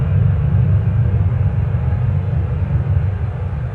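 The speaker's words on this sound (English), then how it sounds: "Why do I open with a jet plane?" Loud, steady low rumble of a jet plane taking off, a continuous dense roar that holds constant throughout with no voices.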